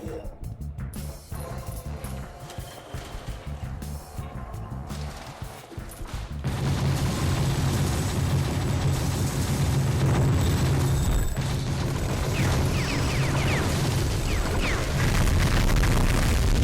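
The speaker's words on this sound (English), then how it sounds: "Man, even the pillars can be destroyed." Gunfire and crumbling debris fill the Gungrave video game as pillars are shot apart; a quieter stretch of scattered shots gives way midway to a dense, loud barrage of booms and bursts that continues to the end.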